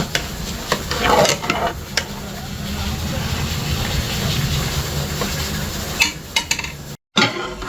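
A spoon stirs and scrapes through food in a large cooking pot over sizzling heat, a steady rough churning close by with occasional sharper knocks and clatter.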